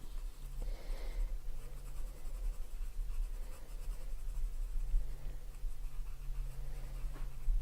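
Colored pencil burnished hard across paper with heavy pressure, a steady close scratchy rubbing that continues without pause against a low background hum.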